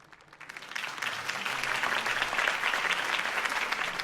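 Crowd applause from a video game rally swells after a campaign speech for Harvey Dent, building from scattered clapping into a sustained, dense ovation that holds steady to the end.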